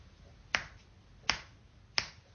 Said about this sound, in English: The noise of the snap is your finger hitting the meat part of your thumb.